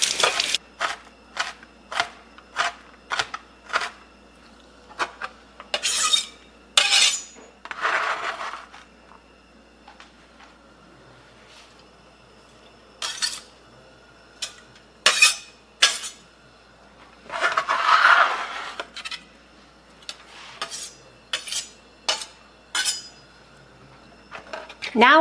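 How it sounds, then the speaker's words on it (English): A knife slices serrano peppers on a cutting board, giving sharp, repeated taps and chops in irregular bursts, some quick and rhythmic, others spaced apart, close and fairly loud. "Now we're done slicing up peppers."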